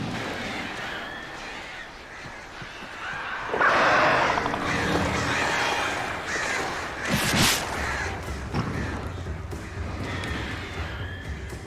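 Crows caw repeatedly in the Alan Wake video game, harsh rasping calls at moderate distance over a dark ambient wash, with a louder burst of flapping and cawing midway and scattered calls afterward.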